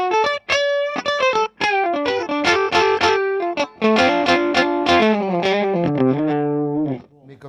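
An electric guitar played through a Rangemaster treble booster pedal into a clean amp, with bright, slightly gritty notes and chords ringing out loudly in short phrases, played alone.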